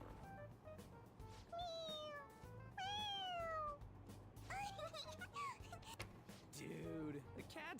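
A cat meows repeatedly in the video game Persona 5 Royal, several drawn-out, wavering calls spaced across the moment, loud and close over a busy background of game music and ambience.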